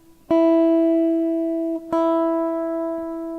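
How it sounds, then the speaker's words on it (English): Two sustained plucked guitar notes at the same pitch, the second played on the open E string, each ringing out clearly and decaying slowly, close and with no other sound. "if I play this note and then play the same note on the open E string"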